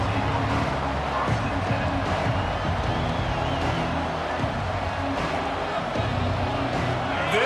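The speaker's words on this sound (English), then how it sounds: "This crowd ready to make its presence known" Stadium crowd noise from an NCAA football video game featuring Tennessee versus Texas, a constant dense roar running through the whole stretch, with a commentator's voice over it.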